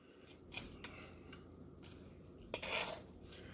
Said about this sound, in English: cut them up real nice. Maybe I'll do it with this knife.